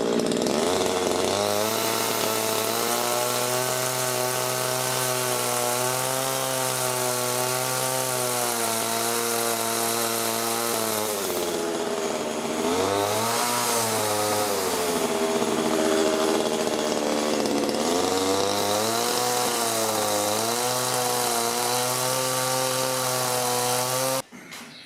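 A chainsaw trims logs for a rustic outdoor table, a loud continuous close engine drone that rises and falls in pitch as it cuts, with a brief throttle drop midway and cutoff at the end.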